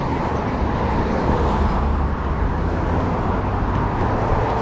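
Steady, loud roar of heavy traffic on a busy Ottawa road, cars and larger vehicles rushing past in a continuous wash of engine and tire noise with no voices.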